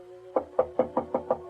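A steady series of six firm knocks on a wooden door, evenly spaced and fairly close, hollow and resonant, with no voices.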